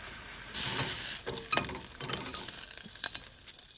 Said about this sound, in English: Get that melting in that pan and use that to kind of crisp up my croissant